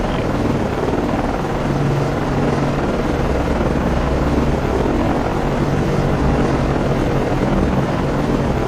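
Helicopter from the naval combat game Cold Waters, set aboard destroyer DDG 79: a steady, loud rotor and engine drone that holds evenly throughout with no pauses.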